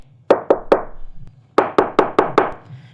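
Knuckles rap on a door up close and loud: three quick knocks, a short pause, then five more in a brisk, even rhythm.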